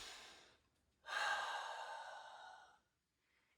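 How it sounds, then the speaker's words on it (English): One long, deep breath during a stretching workout, a faint intake followed by a drawn-out, breathy exhale that fades to quiet. "You do this breathing"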